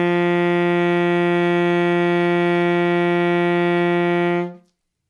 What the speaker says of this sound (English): The first note that we're going to play together is the note G.